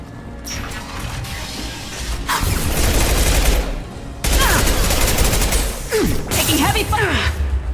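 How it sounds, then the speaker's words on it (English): Mercenary gunfire in Mass Effect 2 crackles in dense, sustained bursts, with loud volleys, brief lulls and sharp ricochet-like zips and metallic impacts throughout. "Taking heavy fire!"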